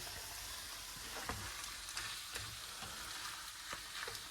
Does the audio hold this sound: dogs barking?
no